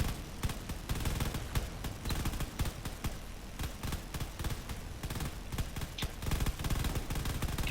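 Rapid, continuous gunfire in a drone combat video game as weapons fire at enemy fighters, dense machine-gun bursts with sharp cracks packed tightly throughout, loud and without talk.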